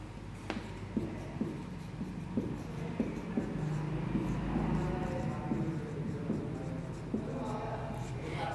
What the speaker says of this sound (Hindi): इसको मैं ब्लैक से ही लिख लेती हूँ।